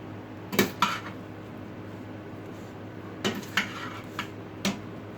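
Cooked vegetarian protein dish from an Instant Pot being served onto a plate: a few sharp clinks of utensil on dishware in two clusters, with quieter taps between, close and clear.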